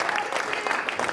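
An audience claps for Deke Dickerson at a guitar show, a dense burst of applause from a crowd that continues steadily through the brief moment.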